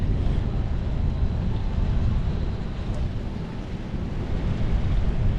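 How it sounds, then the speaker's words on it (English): Strong headwind gusting steadily along the Myrtle Beach oceanfront, a loud, constant broadband rush of wind buffeting the microphone, with a faint wash of surf beneath and no talking. "Ooh, the headwind has really picked up. Strong wind."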